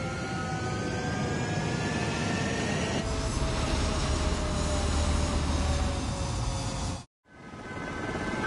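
A military jet takes off from a runway in a video game. Its loud, sustained engine roar rises in pitch and intensity, then breaks with a brief gap and resumes, with no voices over it.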